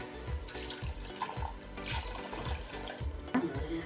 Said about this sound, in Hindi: तो अब मैं इसके अंदर जो है वो 2 गिलास पानी के डालूँगी